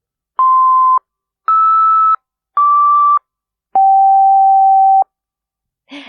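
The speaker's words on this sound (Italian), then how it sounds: "Si tratta delle stesse note, ma a un'ottava di distanza" Four sustained electronic tones play the note B, the first low and the next ones an octave higher, each clean and separated by short gaps, with the last held longer.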